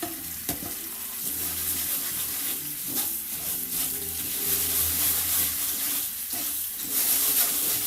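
Tap water runs while jasmine rice is rinsed in a kitchen, a continuous close splashing rush with intermittent clunks and stirring of the grains.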